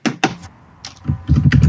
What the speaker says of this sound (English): I'm typing it into chat as she's talking